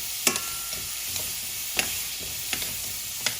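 Jerk-seasoned lamb sizzling on a barbecue grill: a steady close hiss with occasional sharp pops and crackles standing out at irregular intervals, no voices.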